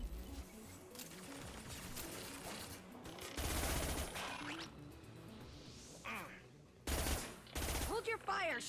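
Gunfire in the video game Mass Effect 2: bursts of rapid shots and loud impacts crackle in clusters over a dense battle din, with people talking throughout.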